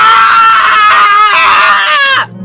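A man screams in a radio commercial, a loud, sustained, strained wail that wavers in pitch for about two seconds before cutting off abruptly.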